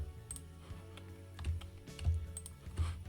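A few soft keypresses on a computer keyboard, scattered thuds and clicks at an irregular pace, close and quiet with no talking.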